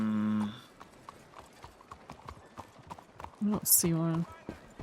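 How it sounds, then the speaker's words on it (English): Horses in the WildRP role-play video game clop along in soft, irregular hoofbeats, with a brief whinny-like tone. Someone talks briefly over them. "Just a bunch of horses everywhere"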